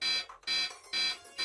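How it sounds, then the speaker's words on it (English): A loud electronic alarm blares in regular rapid pulses, about three harsh beeping bursts in quick succession with brief gaps between, sounding alone. "In August 2017, alarms sounded at the most sensitive scientific devices ever constructed."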